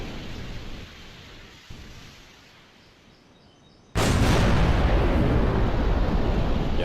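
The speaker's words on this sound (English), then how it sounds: "Plasma explosion, far sound" A plasma explosion effect from a modded Halo 3 game bursts in at once after a quieter rumbling stretch, then holds as a loud, dense, roaring wash that fills the rest of the moment without fading.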